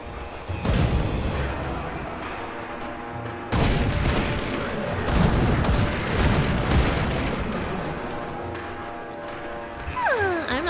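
A mortar companion in Grim Dawn fires heavy booms, two strong blasts with a rumbling tail after each and roaring game ambience throughout, fairly loud.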